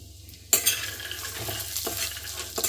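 Raw peanuts tossed and stirred in a pan with a spoonful of desi ghee over a low flame, giving a steady close sizzle with scraping and scratching stirs and a few sharper clinks.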